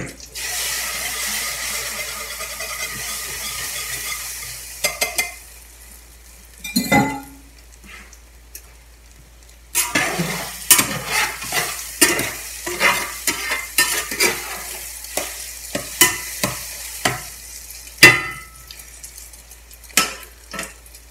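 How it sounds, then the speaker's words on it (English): A bacon and egg scramble fries in a pan, with a steady sizzle broken by repeated scraping stirs and light clinks of the utensil against the pan, close up and with no talking. "Here goes our bacon and egg scramble."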